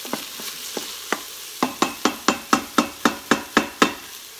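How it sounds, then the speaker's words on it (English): Sauce ingredients searing in a Pampered Chef Quick Cooker on sear mode, a spoon stirring with a steady run of rhythmic scraping knocks over faint sizzling, close and clear with no talk. "there's so much steam happening on the sear mode in this"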